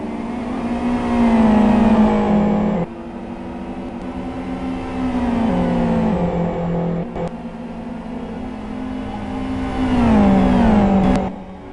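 GT1 race cars racing on a track, one car squirming out of a corner on dirty tyres; loud, close engines rev and shift through gears in rising surges, with a brief drop in between, and no talk.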